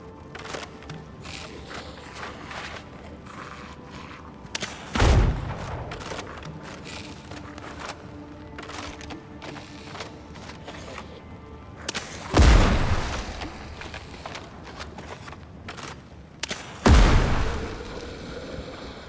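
Intermittent booming gunshots in the video game Windrose, three heavy blasts spaced several seconds apart over a low, busy ambient bed of lighter clicks and pops.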